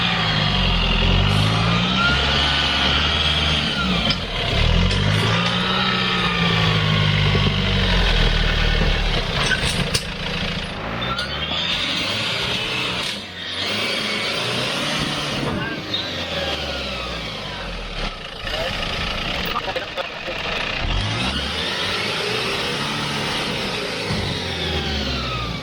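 A Toyota Hilux engine labours off-road, loud and close, revving and bogging in repeated surges with rising and falling pitch, while people talk over it.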